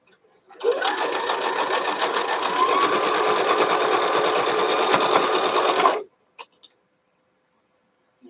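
Sewing machine running steadily for about five seconds, stitching quilt fabric for flying geese blocks, a continuous close whirring hum that stops abruptly, followed by a couple of faint clicks.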